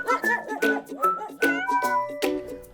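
A shelter cat named Topaz, a friendly male, meows repeatedly in a series of clear, close, tonal calls, about five distinct meows spaced through the moment with no talking.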